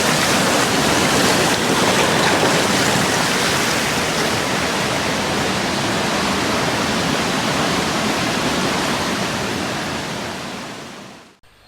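Water flowing at the Holmer Lake drainage, draining toward the River Severn through pipes, a loud continuous rushing roar heard close up, steady throughout before cutting off at the end.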